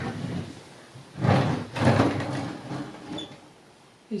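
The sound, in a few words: opening a dirty drawer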